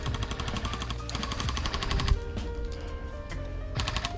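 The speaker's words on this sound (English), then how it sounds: "They're firing on me." Rapid bursts of airsoft gunfire from opponents, loud and close, in repeated automatic strings with brief pauses between volleys.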